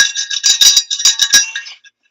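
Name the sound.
ringing a bell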